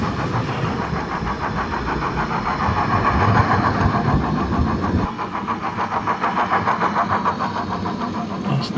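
An OO scale DCC model Deltic locomotive runs on a layout with superelevated curves, its sound-decoder diesel engine throbbing loud and steady with a rhythmic pulse that shifts slightly midway.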